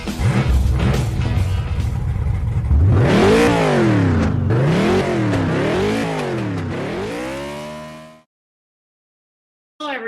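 A race car engine revs hard and accelerates through several gear changes, each rising pitch sweep broken by shifts, loud and close, then cutting off abruptly into silence, with no voices.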